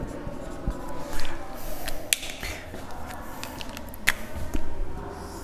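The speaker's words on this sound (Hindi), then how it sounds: "इधर मैंने लिख दिया" Handwriting on a board or paper while noting a registration number, scattered scratchy strokes and light taps at an irregular pace, close and moderately quiet, with no voices.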